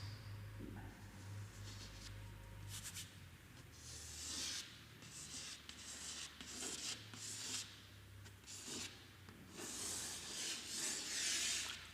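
Marker or chalk drawing a dicot embryo diagram on a board, soft rubbing and scraping strokes in uneven bursts, close and fairly quiet over a low hum, no speech.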